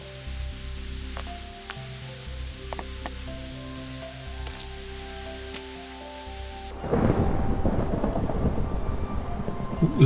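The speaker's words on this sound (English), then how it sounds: "There's a storm setting in here now, and we're in creeper territory." Rain and rumbling thunder from a Minecraft thunderstorm; a steady wash of rain joined partway through by a louder, dense burst of rain and storm noise that swells and stays heavy, with no talking.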